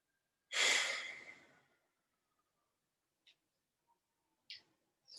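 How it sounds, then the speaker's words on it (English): A single long, deep breath in a pranayama yoga class, close and fairly loud, tapering off over about a second, followed by quiet with a few faint, brief breathy sounds. "So breathe in for 4, breathe out for 4."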